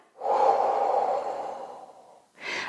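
Slow, steady breath pushed out through the mouth during a breathing exercise for clearing mucus from the bronchi, a long airy exhale lasting about two seconds, close and alone, followed by the start of another breath.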